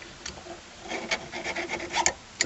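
New rear brake pads for a 2001 Mitsubishi Galant GLX SE 2000cc get a short, close rasping rub, several scratchy strokes in quick uneven succession, with no talking over them.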